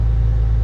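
An old Porsche engine running with a heavy, steady low rumble, loud and close, which stops abruptly at the very end as it is switched off.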